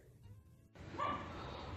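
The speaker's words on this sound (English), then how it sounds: "excuse my neighbor's dog" A neighbour's dog barks once somewhere off at a distance, a faint bark rising briefly out of low room noise and then trailing off.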